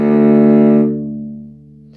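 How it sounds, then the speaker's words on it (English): A cello sounds a single bowed D fingered with the first finger on the C string, a rich sustained tone that rings clearly, then its upper overtones fade while the low body of the note lingers. "we're going to play the D with our first finger on the C string"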